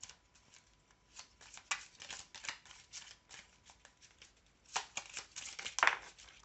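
Heart-shaped cut oracle cards are shuffled by hand in close, papery riffles and slaps, in irregular bursts that grow louder toward the end, with no talking.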